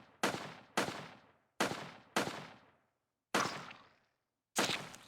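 Retro arcade-style shots from the video game FlutterBug, six separate blasts fired in quick uneven bursts, each a sharp crack with a short decaying tail, clear and moderately loud with no talk over them.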